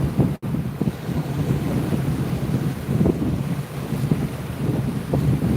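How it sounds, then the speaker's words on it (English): Strong wind at Haystack buffets the microphone in a constant, heavy low roar with gusting rumbles and no break throughout. "In this wind, no way."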